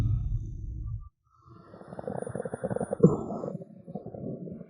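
A hungry stomach gurgles and rumbles in a low, churning burst, drops briefly to silence, then rolls on in a longer rumbling stretch with a louder squelch near the end, close and fairly strong.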